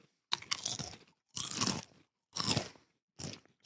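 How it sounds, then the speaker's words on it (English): Chips crunched right into a microphone in four loud, close bursts of chewing separated by brief silences, each bite crisp and harsh. "Stop with the crunching in the fucking microphone"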